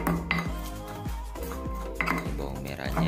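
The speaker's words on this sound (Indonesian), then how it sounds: "Bawang merahnya yang pertama kita ulek sampai halus" Shallots are ground in a mortar with a pestle while cooking tofu in sauce, a series of hard scraping knocks and grinding strokes in an uneven rhythm, close and fairly loud.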